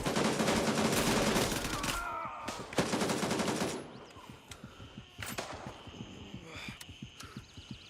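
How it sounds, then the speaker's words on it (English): Gunfire in the video game Gray Zone Warfare: dense, loud bursts fill the first few seconds, then sparser scattered shots and thuds follow at a lower level. "That guy's still gonna take pot shots at me."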